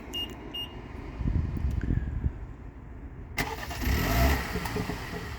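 A 2023 Mini Countryman JCW is started remotely: a couple of faint beeps, then the engine turns over and settles into a steady mid-pitched idle with a swell of revs, heard from nearby outside the car.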